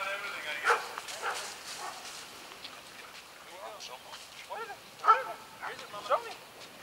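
A dog's short yips and barks come in scattered bursts at a school campus opening, moderately near, with people talking around them.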